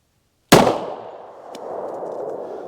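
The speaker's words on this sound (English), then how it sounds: "I'm gonna start out with the Taurus Commander, the 4 1/4 inch barrel on them." A single sharp gunshot from a Taurus Commander .45 ACP pistol with a 4 1/4 inch barrel firing Federal Guard Dog ammo, loud and close, followed by a fading echo and faint noise.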